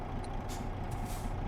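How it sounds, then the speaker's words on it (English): A truck's air brake in Euro Truck Simulator 2 hisses in two short bursts over a steady low engine idle, the rig parked at traffic lights in the city of Verona. "So parking brake on."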